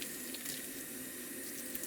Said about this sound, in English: Basically, washing everything, and then we're going to add some sanitizer just to make sure that there's no nasties on here